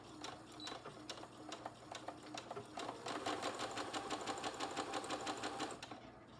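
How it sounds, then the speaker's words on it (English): A home sewing machine runs steadily as it stitches fabric, a close, continuous mechanical whir with a rapid needle clatter. It speeds up slightly partway through and keeps going for several seconds without pause. "let me just sew one of these together so I'm doing an actual sewing video"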